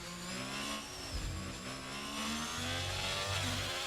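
A race car engine in the ARC sim racing game at the Spanish Grand Prix revs steadily and builds under acceleration, a continuous mid-pitched drone that carries through the whole stretch with no talk.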